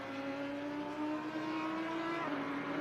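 A BMW race car in a sim racing game at Suzuka drones steadily down a straight, its engine note holding high and even with a slight pitch shift near the end, no voices.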